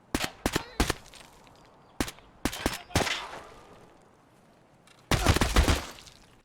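Semi-automatic gunfire in Escape from Tarkov: sharp single shots in a rapid sequence, then a pause and a final tight burst of several shots, loud and close with faint background ambience.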